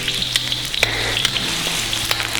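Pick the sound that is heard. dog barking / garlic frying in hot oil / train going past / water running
garlic frying in hot oil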